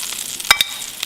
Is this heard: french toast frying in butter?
yes